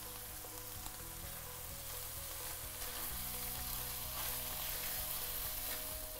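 Chicken liver and mixed colored peppers sizzle steadily in a hot pan, a continuous close frying hiss with faint stirring scrapes and no voices.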